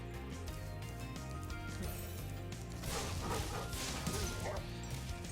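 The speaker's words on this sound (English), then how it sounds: "Got a guard dog." Guard dog in Spyro Reignited Trilogy giving a run of yappy barks amid crashing game effects and music, moderately loud against a busy backdrop.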